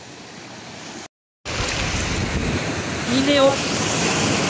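Ocean waves wash onto a beach at night in a steady broadband roar with wind buffeting the microphone, briefly cut out for a moment, and a voice murmurs faintly under the surf.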